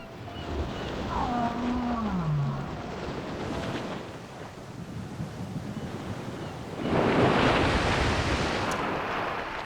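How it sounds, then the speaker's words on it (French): A whale calls in the underwater video game Dave the Diver, a low moaning glide rising and falling for a couple of seconds, set over a constant washing ocean ambience that surges louder toward the end. "Au revoir la baleine."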